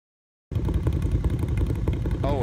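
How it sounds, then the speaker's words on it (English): After a moment of silence, an ATV engine loop starts abruptly and runs steadily, a rough, throbbing mid-pitched idle with a clattering edge, loud and close, with a faint voice near the end. "Is there like a car engine ATV engine loop?"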